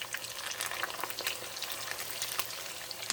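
Cilantro salmon croquettes fry in a hot cast iron pan, giving a steady, dense sizzle with close crackles and pops throughout and no talking.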